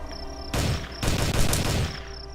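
Video game gunfire erupts in two loud bursts of rapid automatic shots, separated by a brief pause, over a faint insect-like chirping background.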